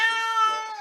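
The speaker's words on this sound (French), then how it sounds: "le retour aussi de Yoko qui a l'air de plutôt bien se porter, hein, qui miaule toujours autant" A cat named Yoko gives a single drawn-out, tonal meow lasting under a second, close and clear with no other sounds around it.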